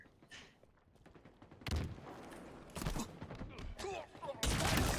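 Gunfire from a Halo multiplayer match, with bursts of rifle shots and sharp blasts that come in several loud clusters, fainter shots between them, and a voice faintly in the background.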